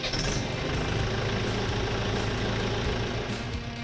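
Mahindra 575 DI XP Plus tractor engine running at a steady idle, a continuous low diesel rumble held at an even level throughout with no talk.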